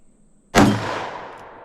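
A single loud, sharp shot from a .357 Magnum revolver loaded with Freedom Munitions X Defense ammunition, ringing out close at an outdoor range with a long decaying echo afterward.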